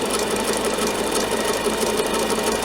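An embroidery sewing machine stitches a rope coaster in a steady, dense mechanical whir with a fast needle rhythm, close and continuous with no talking.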